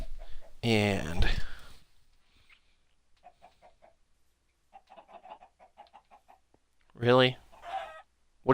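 A Minecraft video game chicken clucks softly in a few small bursts, set between louder spoken passages at the start and end.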